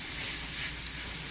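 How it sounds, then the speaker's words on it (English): Foraged mushrooms cooking in a pan on a stovetop, giving a steady soft sizzle and hiss that runs evenly throughout at a moderate level, with no voices. "So we're going to let this cook here on the stove for a few minutes."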